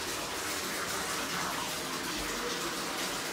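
Bathtub tap in an older house's main bathroom running at good pressure, a steady close gushing rush of water filling the tub without pause.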